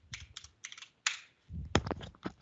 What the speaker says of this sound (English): It's not easy to use the microphone and type on your keyboard at the same time.